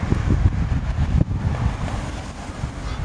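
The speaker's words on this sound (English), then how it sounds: "wind's getting a bit loud" Strong wind buffeting an outdoor microphone, a loud continuous low rumble with gusty surges and no speech.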